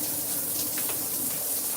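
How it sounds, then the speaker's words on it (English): Steady broadband rush of a shower running in a bathroom, constant and fairly close, with no talking over it. "turn the shower on"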